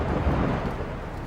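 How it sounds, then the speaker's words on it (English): Thunderstorm over Milwaukee in June, a steady low rumble of thunder with rain noise, loud and continuous throughout without any voices. "a powerful storm hits Milwaukee"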